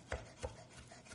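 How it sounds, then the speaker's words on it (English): Flat-bladed knife rocking through fresh parsley on a board, giving two soft, close chops followed by faint scraping, with no talking. "So I'm going to grab a little bit of parsley, and we'll chop it up."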